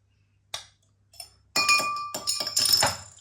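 Beer glasses clink together in a few separate, bright chinks with short ringing tails, spaced apart and close by, with no talking.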